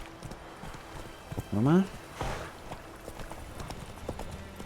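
Horse hooves clip-clop steadily while riding in The Witcher 3, a soft rhythmic plodding under game ambience, with someone speaking briefly over it.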